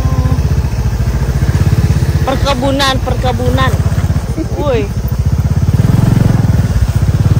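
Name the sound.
motorcycle engine while riding through a plantation trail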